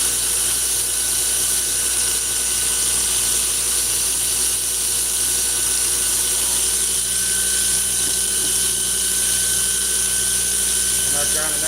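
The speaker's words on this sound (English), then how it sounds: "That grinder right there is bullshit" A variable-speed grinder drones steadily and loudly throughout, a constant high-pitched mechanical whine without pause.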